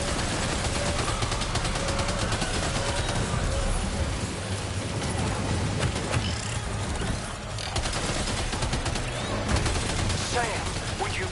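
Dense, rapid bursts of gunfire from the video game Death Stranding 2 run continuously, layered with clattering mechanical noise while voices talk over the firefight.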